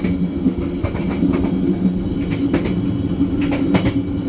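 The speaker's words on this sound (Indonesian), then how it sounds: "Saat ini, kereta akan memasuki stasiun Cirebon Perujakan." Inside a carriage of the KA Bengawan passenger train in Indonesia, a steady low rumble of wheels and carriage fills the air, with faint rhythmic clicks and creaks over the running noise as the train approaches a station.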